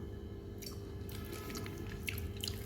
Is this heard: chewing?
yes